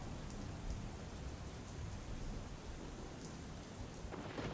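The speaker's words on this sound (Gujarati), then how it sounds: "વીજળીના કડાકા સાથે વરસાદનું આગમન શરૂ થયું છે" Heavy rain pours steadily in Porbandar, Gujarat, a thick continuous hiss of drops on surfaces, with low rumbling thunder rolling underneath and a few brighter splashes near the end.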